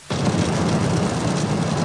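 A bomb explosion in Nicosia, Cyprus, heard as a sudden loud blast that opens into a dense, sustained roar filling the whole clip, with no voices.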